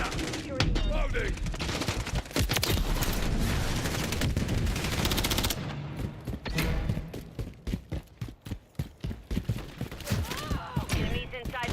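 Dense automatic gunfire and bursts of shots fill a Call of Duty Modern Warfare III multiplayer match on the Tokyo map, loud and sustained at first, then thinning into separate sharp cracks over game voice lines and talk.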